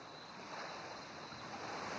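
Ocean waves wash onto a beach in a soft, steady surf hiss, faint and distant with a gentle swell in level and no voices.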